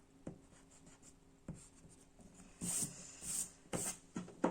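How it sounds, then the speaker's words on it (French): Eraser rubbing over a pencil drawing on paper, quiet scattered scrubbing strokes that grow into several brisk, louder bursts of rubbing toward the end, close and alone. "Une fois que j'ai montré, je gomme."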